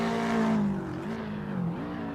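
Race cars in a racing video game on Sebring International Raceway's front straight, an engine droning at high revs with pitch dips at gear shifts, steady and moderately loud.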